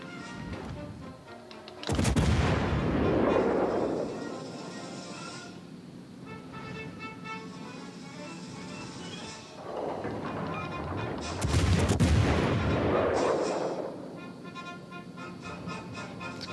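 Heavy ship guns fire in World of Warships: Legends aboard HMS Hampshire, two loud booming salvos with long rumbling tails several seconds apart over a steady engine and sea bed of game sound.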